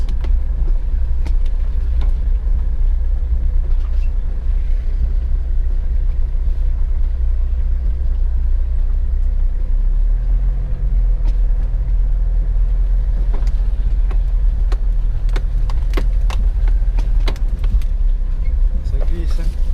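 Car climbing a steep gravel track in Provence, engine rumbling steadily and close throughout with crunching stones and small knocks, while people talk over it.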